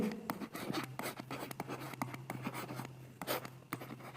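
Marker strokes squeak and scratch across a teaching board as straight lines are ruled through triangle figures, a run of short close strokes with brief pauses between them and no talking.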